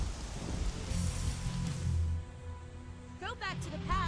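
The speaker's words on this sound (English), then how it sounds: "It's just the rain" Steady rain from a Dragon Ball Z: Sagas video game cutscene, a dense hiss throughout with low rumble, with no music or narration; brief tonal chirps come near the end.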